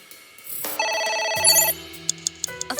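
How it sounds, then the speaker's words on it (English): A phone rings in the video game AI: The Somnium Files, a sustained electronic tone that shifts pitch midway, with a few soft clicks near the end. "A phone. Should I pick it up?"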